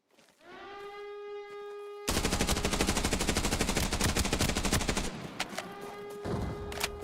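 Video game battle with a rising siren wail, then a sudden burst of rapid continuous gunfire for several seconds, fading into scattered shots as the siren tone returns.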